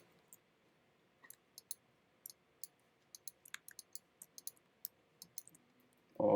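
Sharp, isolated mouse clicks tap out an irregular rhythm while working in InDesign, close and quiet against a near-silent background, with a brief louder burst at the very end.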